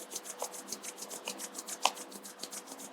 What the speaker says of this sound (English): Join your both palms together, rub your palm.